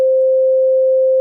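Synthesized sine tone holding a steady C note, one continuous pure pitch for just over a second with clean onset and cutoff, loud and alone.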